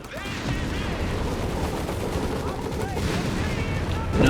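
Artillery bombardment and gunfire from Company of Heroes 3 roar continuously as dense rumbling booms and crackling shots, with a commentator talking over the battle noise.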